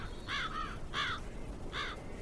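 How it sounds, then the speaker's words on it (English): Three loud, harsh caws from crows living in a massive willow tree beside an 1840s farmhouse, evenly spaced over steady outdoor background noise. "A murder of crows lives in a massive willow tree nearby"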